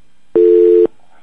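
A single steady telephone-line tone sounds on a call into a Korean radio talk show with a troubled connection: one loud, even beep of about half a second, alone, with silence on either side.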